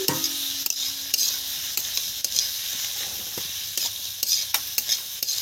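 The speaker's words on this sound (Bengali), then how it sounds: "আর এর মধ্যে এই টমেটো কুচিগুলো দিয়ে দিচ্ছি বন্ধুরা।" Chopped tomatoes stirred into spice paste frying in a pan for a big-fish curry, a steady sizzling hiss with repeated scraping clicks of a spoon against the pan at an uneven rhythm.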